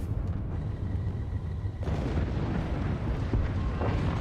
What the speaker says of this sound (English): Fire the howitzer. Oh, we just hit something.